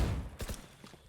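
Sheriff pistol shots in a Valorant esports match, a short burst of sharp cracks close together near the middle, the first loudest, followed by fainter reports trailing off.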